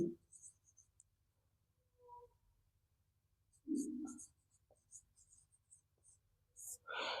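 Faint, scratchy pen strokes on paper come in short bursts during a Class 10 quadratic-equations maths lesson, with brief spoken moments between the quiet writing sounds.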